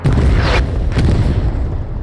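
A rocket explodes in a World War II shooter battle at Sainte-Mère, a loud close boom that opens the moment and rumbles on, with a second sharp crack shortly after as the blast decays.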